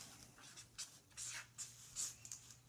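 A pen scratches notes on paper during a solo card game, a faint, close run of short strokes and squiggles in irregular bursts over a low background hum, with no talk.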